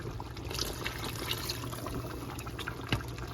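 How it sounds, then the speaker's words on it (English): Water pours steadily into a pot of simmering turkey necks and broth, a continuous close splash and trickle with no talking. "I'm just going to add a little bit more water and let that go"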